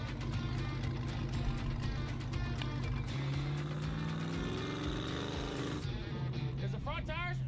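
A Hellcat-powered offroad 4x4 crawls over rocks with its rear tires spinning. Its engine roars loudly and continuously, swelling and shifting in pitch as it revs under load, with voices audible toward the end.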